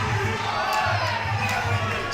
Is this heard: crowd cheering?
yes